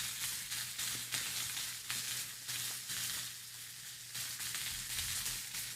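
A ribeye steak sizzles loudly in a pan while being basted, with a steady frying crackle and a series of sharp spoon-splash bursts roughly every second.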